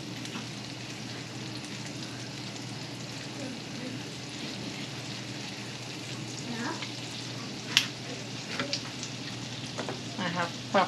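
Garlic and butter fry in a pan with a steady, moderate sizzle, broken by a few sharp stirring clinks and scrapes toward the end.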